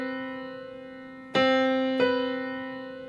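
Two sustained notes a major seventh apart, a low held tone with a higher note struck over it and then restruck, ringing clearly and decaying slowly.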